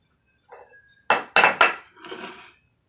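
Funnel for pouring oils being handled, a soft scrape followed by three sharp close knocks and clinks, then a rattly shuffle before silence.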